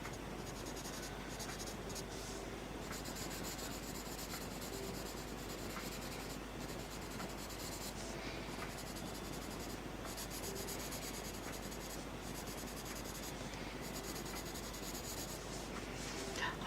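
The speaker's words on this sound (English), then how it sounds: "I'm using quite a light touch for this blue pencil." A blue colored pencil is worked lightly across paper, giving a soft, continuous scratchy rubbing of steady strokes that runs on without pause and stays close and quiet.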